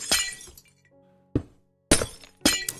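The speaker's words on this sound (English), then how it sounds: "I can't really stand the sound of the glass breaking much more." Blocks of glass shatter in vanilla Minecraft, four sharp crashing breaks at irregular intervals, each with a brief tinkling tail, close and clear.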